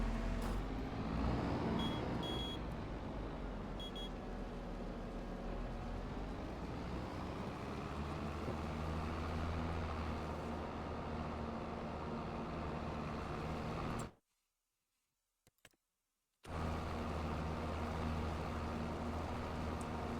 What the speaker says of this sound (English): This tractor driving